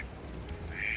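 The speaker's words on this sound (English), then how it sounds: "So also I feel like we should name this duck." A duck gives a single short quack near the end of a brief moment, fairly close and clear over a quiet, low background hum.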